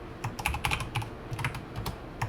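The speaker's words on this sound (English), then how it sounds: "I'm typing it again and again because I want you to type as well" Rapid keystrokes on a computer keyboard while code for a Go CRUD API is typed, a close, steady patter of uneven clicks with no talk.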